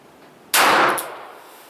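A single sharp, loud shot rings out from a snubnosed .38 Special double-action revolver fired with the non-dominant hand. A bright metallic crack is followed by a decaying ring.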